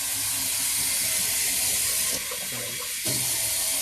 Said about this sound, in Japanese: こうやって米を洗うと水が白くなりますね。